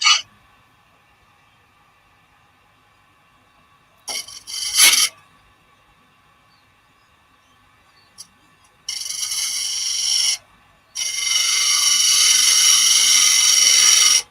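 A chisel held on the tool rest cuts into wood spinning on a lathe, producing brief scraping bursts and then longer sustained hissing cuts with pauses between them, close and fairly loud.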